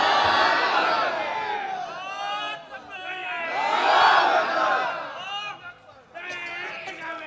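A large crowd at an outdoor religious gathering shouts takbir together in long swelling waves of massed voices, loud and reverberant, rising and falling several times.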